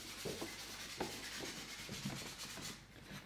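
A woodcarver's scraper draws across wood in short, repeated rasping strokes, fairly quiet and close, about one stroke every half second.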